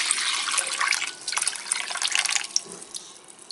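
Water pours steadily back into a bottle, a continuous bright splashing and gurgling stream that stays loud and close throughout, then thins slightly near the end.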